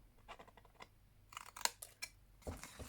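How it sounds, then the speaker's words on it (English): Scissors snip through patterned designer paper up to a score line while a gift box is being made, a quick series of close, quiet crisp cuts with short pauses between them. "Cut up to the first score line and remove that square."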